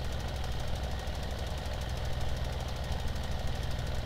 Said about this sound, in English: Oh, this tractor's having one heck of a time here.